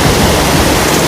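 Loud, continuous roar of a rushing mountain stream in the hills of an Uttarakhand village, dense broadband water noise close by with no voices.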